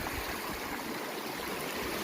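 A small stream runs steadily near a hot spring bathing site in Aceh Besar, a soft, even wash of flowing water heard close and alone, with no voices.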